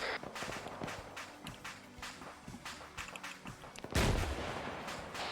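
Rocket launcher fired at an enemy BTR in a military shooter game, a sudden loud blast near the end after a stretch of sharp footsteps and distant gunfire.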